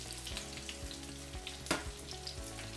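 A panko-crusted sheepshead fillet fries in hot oil, giving a steady close sizzle with a few light pops and one sharp scrape or flip partway through.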